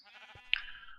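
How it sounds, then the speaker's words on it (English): A single short sheep bleat in Minecraft, a wavering nasal cry that rises to a sharp peak midway and then trails off, fairly close and alone. "I had lots of sheep in this world. Just like this. Just tons of sheep."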